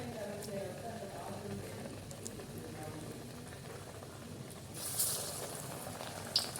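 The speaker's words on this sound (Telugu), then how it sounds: "నేను ముందే ఆయిల్ చాలా హీట్ చేసుకొని పెట్టుకున్నాను అండి. ఇందులోకి మనం చేసుకున్న వడ డ్రాప్ చేసుకోవడం." Amaranth leaf vadas dropped into hot oil sizzle steadily on a low flame, a soft continuous crackling fry with a couple of sharp utensil clinks near the end.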